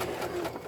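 A sewing machine stitching fabric runs with a continuous whirring hum and a fast mechanical chatter, loud and close without pause.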